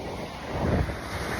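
Ocean waves wash and surge in a steady broadband rush with wind buffeting the microphone, a swell building briefly in the middle before settling back into constant surf noise.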